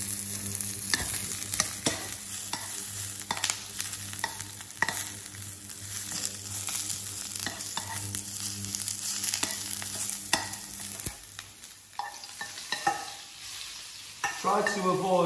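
Food fries steadily in a shallow layer of oil in a pan, a continuous close sizzle with frequent crackles and scraping stirs, louder bursts near the end.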